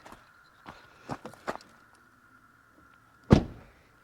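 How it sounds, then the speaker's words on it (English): A door is shut at a campsite with a single sharp thud, preceded by a few faint clicks and rattles, close by and alone. "Shut this door here."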